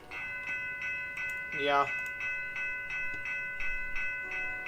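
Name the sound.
Union Pacific train passing in Roblox video game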